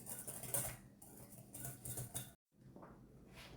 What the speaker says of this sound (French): on met déjà le sucre, le miel et l'œuf. Voilà, on mélange.